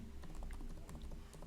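Keys clatter on a computer keyboard in quick, irregular taps, light clicks scattered over a low background hum, close and fairly faint, with no voice.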